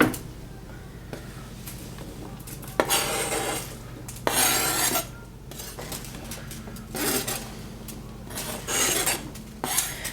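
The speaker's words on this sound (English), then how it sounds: "So as I chop these, I'm just going to toss them in and get them going." Baby portobello mushrooms being chopped and tossed into a pan with olive oil, heard as close clattering bursts of knife and pan contact, scraping and rubbing with uneven pauses between, no voices.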